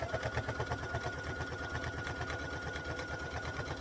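A sewing machine runs at a slowed speed while stitching binding onto a quilt, giving a steady close mechanical whir with an even rapid needle rhythm throughout.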